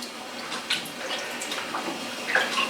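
Garden tomatoes, some of them splitting, are washed in water, giving soft splashing and trickling that stays close and fairly quiet, with no voices.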